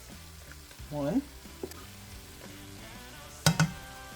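Two tablespoons of all-purpose flour cook in butter with onions and garlic in a pot, giving a steady sizzle with scraping stir clicks and a few brief words spoken over it.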